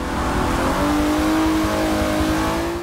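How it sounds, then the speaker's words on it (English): A 450-horsepower car in the racing game Forza Motorsport 7 pulls hard under acceleration, its loud, gravelly engine note climbing steadily in pitch over about three seconds, close and without talk. "it has 450 horsepower and it puts it down on the ground, so it accelerates pretty crazily"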